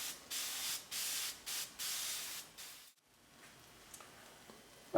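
Pressurised hand sprayer misting coffee onto a sponge cake for a tiramisu log, five loud hissing bursts in a stop-start rhythm, then a quieter stretch with faint clicks.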